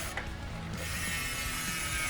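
The rear hub ratchet of a new wheelset on a Rose The Bruce mountain bike clicks in a fast, continuous buzz, loud and close, with no talking.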